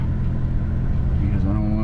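A car engine throttling steadily through deep flood water in low gear, a continuous loud rumble with water wash around it, close up.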